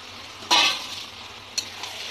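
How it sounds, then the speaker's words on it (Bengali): Mutton being sautéed in spice masala in a pan: a low, steady sizzle broken by two brief louder bursts of hissing and stirring, heard close up with no voices. "এবার এর সাথে ভালো করে বন্ধুরা কষিয়ে নেবো মাটনটা মশলার সাথে"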